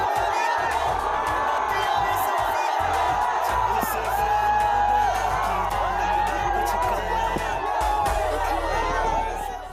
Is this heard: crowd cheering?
yes